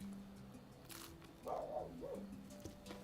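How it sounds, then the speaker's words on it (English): A dog barks outdoors at a distance, a few short yelping calls around the middle of the moment, faint over a low steady hum with no one talking. "There's a dog outside, Milo. Do you hear him?"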